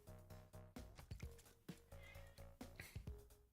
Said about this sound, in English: Cat started meowing